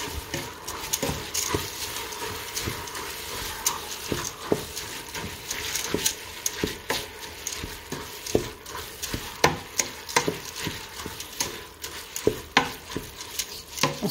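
A spoon stirs food with salt in a pan while it fries for a quick Somali kabib lunch, giving rapid uneven scrapes and clinks over a continuous sizzle for the whole stretch.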